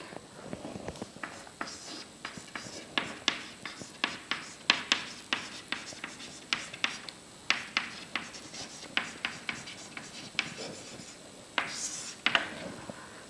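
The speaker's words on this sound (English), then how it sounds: "So let me draw the circuit diagram for this mode." A hand draws a circuit diagram for an op-amp in differential mode, marker or pen strokes tapping and scraping in a steady series of short, close ticks with brief pauses between groups.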